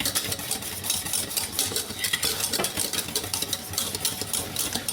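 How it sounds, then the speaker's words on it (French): A spoon stirs thick chocolate pastry cream as it boils in a pot, making a continuous, busy scraping and bubbling sound at close range. "on va se mettre à faire bouillir et à remuer, remuer, remuer"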